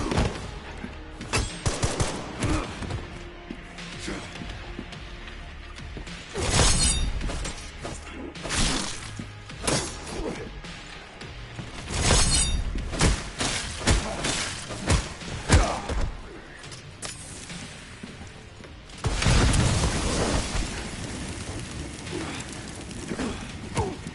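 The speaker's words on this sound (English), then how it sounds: "I hit him with the rocket launcher." A rocket launcher striking an enemy in the video game Resident Evil Requiem, heard as several loud, sharp blasts and crashing impacts scattered among gunfire, with a heavy burst near the end.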